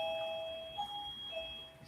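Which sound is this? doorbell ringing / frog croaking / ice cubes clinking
doorbell ringing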